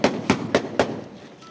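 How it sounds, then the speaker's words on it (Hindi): Heavy gunfire in the hills at Kati Pahari: four sharp, loud shots at a steady rhythm, close together, followed by a fading echo and no voices. "शदीद फायरिंग की आवाज़ें आप सुन सकते होंगे"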